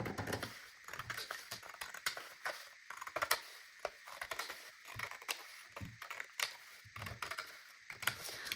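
Scissors snip through fabric while a front placket piece is cut from a shirt pattern, giving a steady series of short, close, crisp cuts with no talk.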